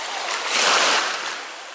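Sea waves washing onto the shore at Zelenogradsk in July: one close, hissing surge of water that swells to a peak and then slowly recedes.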